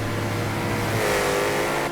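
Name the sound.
Impaler car engine in GTA FiveM drag race, video game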